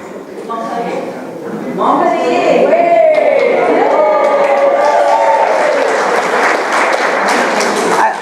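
A crowd in a talk audience cheers and claps, swelling after a couple of seconds into a steady, broad roar under a speaking voice.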